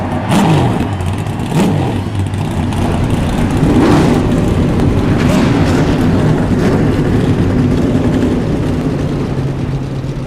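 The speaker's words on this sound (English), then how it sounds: "Drivers, start your engines." Stock-car engines in the iRacing eNASCAR series at Richmond, a full field starting up and revving together in a loud, dense roar with rising and falling engine pitch sweeps and no talking.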